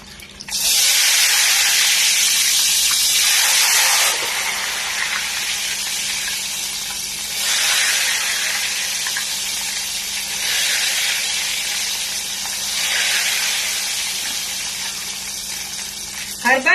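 Malai ghewar batter is poured into hot oil in loud hissing, sizzling bursts that surge and fade repeatedly with a steady frying bed underneath.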